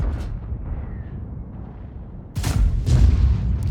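World of Tanks tank cannon firing premium rounds, two sharp booming shots near the end after a quieter stretch of low rumble.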